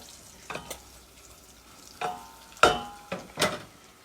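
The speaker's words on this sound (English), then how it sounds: "Now, if this bacon would hurry up and cook." Bacon cooking in a pan, with a soft sizzle underneath several sharp, irregular scraping and clanking bursts from the utensil against the pan, close by and without voices.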